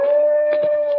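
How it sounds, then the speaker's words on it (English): A dog howls in a long, steady, mournful tone from behind a high fence, the sustained wail holding throughout with slight wavering and small swells near the end. "Dog probably just can't get out because of the high fence"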